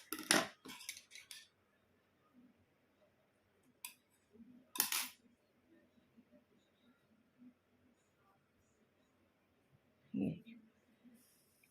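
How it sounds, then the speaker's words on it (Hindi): Scissors snip through wool yarn with a few sharp, close clicks in quick clusters, separated by near silence, and a voice speaks faintly in between. "वूल को काट देंगे।"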